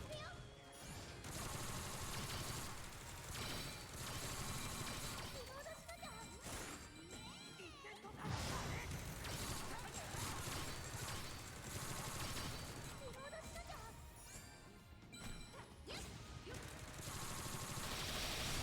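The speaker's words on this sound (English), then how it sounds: "the SMG and like how fast and rapid its fire rate is" Rapid SMG fire in Sword Art Online: Fractured Daydream, heard as dense bursts of shots with crashes and whooshes, a steady loud wash of game audio over nearly twenty seconds, and some talk mixed in.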